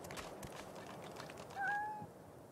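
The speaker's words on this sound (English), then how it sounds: "A black cat." A black cat in Divinity: Original Sin lets out a single short, clear meow partway through, rising above a steady, murmuring ambient background.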